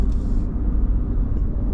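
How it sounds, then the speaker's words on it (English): Motorbike overtaking on a new highway toward Point Fortin, heard as a steady low engine rumble mixed with road noise from inside a moving vehicle, fairly loud and continuous. "A bike looks like it's overtaking."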